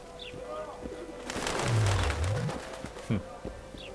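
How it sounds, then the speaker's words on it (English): Pigeons or doves coo in a forest area of The Witcher 2: Assassins of Kings, a few soft calls under game ambience, with one louder coo near the middle and brief chirps at the edges. "Very tame birds."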